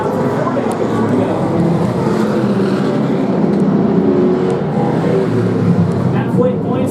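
Race cars at a short-track event roar down the back straight in a steady, loud engine drone with no pauses, a commentator talking over the noise throughout.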